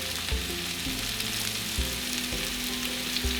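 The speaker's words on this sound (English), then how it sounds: "I'm gonna add a little bit of grapeseed oil and directly put our squash in." Sliced zucchini squash sizzles and fries in grapeseed oil in a pan, a steady bright crackle with soft low knocks as the pieces settle.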